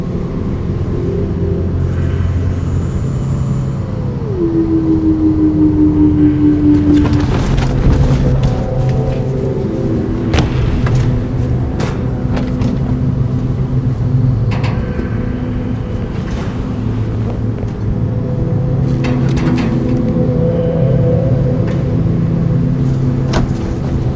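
A car engine rumbling in the video game Nobody Wants to Die, a steady low drone that runs throughout, with scattered clicks and knocks and a brief rising tone near the start.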